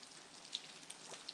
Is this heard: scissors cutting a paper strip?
no